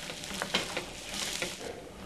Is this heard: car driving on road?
no